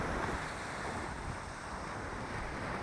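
Sea surf rolls onto the shore, heard as a continuous broad roar mixed with gusting wind buffeting the microphone. The sound stays steady and loud throughout, with no talking.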